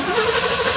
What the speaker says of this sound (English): That is the engine cranking or the engine turning over.